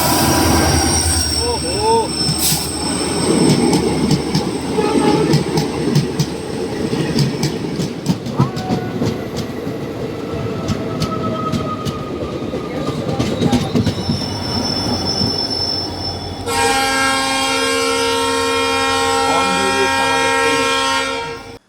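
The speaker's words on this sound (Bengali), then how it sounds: "এটা হচ্ছে 13176 শিলচর থেকে শিয়ালদা কাঞ্চনজঙ্ঘা এক্সপ্রেস।" The 13176 Silchar–Sealdah Kanchanjunga Express passes close by with a loud rumble, squealing wheels and clickety-clack over the rails, ending in a sustained tonal blare. A voice briefly exclaims.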